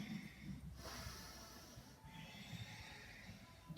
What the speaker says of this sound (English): But I'm still narrowing the back of my throat to do this ujjayi breath